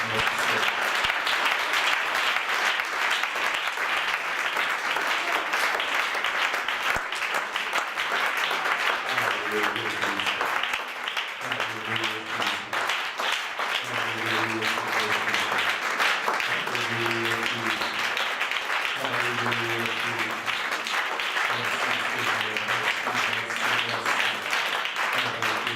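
A church congregation applauds loudly and steadily for the whole stretch, with voices calling out over the dense clapping.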